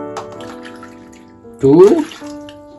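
Water poured from a measuring cup into a pan of dried peas, a short loud splashing pour that rises and fades over a second, with a person talking before it.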